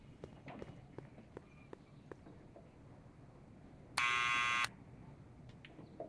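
A harsh electronic buzzer from a door in the Back to the Future: The Game adventure game, one sustained blast of under a second amid faint footsteps and quiet background.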